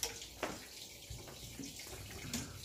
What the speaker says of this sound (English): Alright, pump it back on. There goes the water that way.